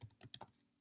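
A computer keyboard is typed on in a short burst of four or five quick, close, crisp keystrokes.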